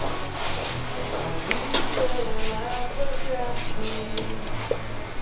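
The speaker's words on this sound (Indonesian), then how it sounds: "Jadi sebelum mulai kita semprot dulu." Disinfectant sprayed in quick hissing bursts inside a barbershop before a haircut, four or five short close sprays in a row over a steady background hum, with faint voices nearby.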